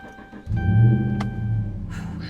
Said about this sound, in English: Start the truck up here.